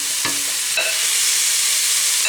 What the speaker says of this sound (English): I'm going to fry this until all the beef stewing steak has browned now.